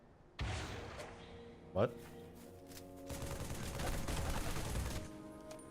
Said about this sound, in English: Does my rocket launcher hit it?